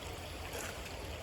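A creek with big boulders gives a steady, broadband rush of flowing water that is fairly faint and continuous, with no voices.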